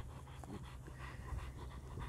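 Large friendly dog panting up close in a Black Forest woodland, steady rapid breathing under faint outdoor ambience with no talk.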